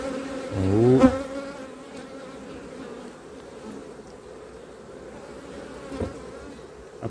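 Honeybees hum steadily on a hive brood frame crowned with honey, a dense, continuous buzz of many insects with a louder close pass near the start and a brief tap later on.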